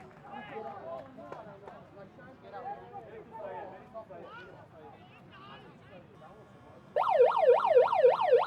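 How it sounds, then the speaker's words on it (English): A crowd murmurs and a commentator talks for several seconds at a Singapore versus Thailand rugby sevens match, then a loud end-of-match siren wails, rising and falling repeatedly until the end. "And that's the siren."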